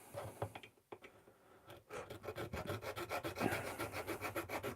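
A hand saw cutting through resin, with a fast run of rhythmic rasping strokes that settles into an even back-and-forth, close and fairly loud.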